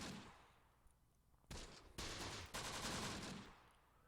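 Small-arms fire from units in Close Combat: The Bloody First, distant crackling bursts that build into dense sustained volleys of overlapping rifle and machine-gun shots, with no talking.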